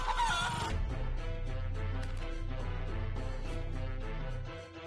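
Chicken clucks and fowl calls from a cutesy video game, repeated short clucking sounds over a steady game music bed at moderate volume.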